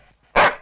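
One short, loud dog bark sounds close by, abrupt and alone after near silence.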